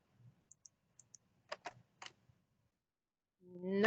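Sparse clicks of typing on a computer keyboard, a handful of separate and paired taps spaced out over a few seconds in a quiet room, faint and close, followed by the start of a voice.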